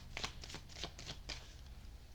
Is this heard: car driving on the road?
no